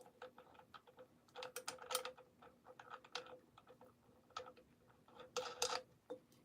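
A sewing machine's mechanism, turned slowly by hand after the needle got stuck, gives off a quiet, irregular series of small mechanical clicks and ticks, some in quick clusters, close by with no talk.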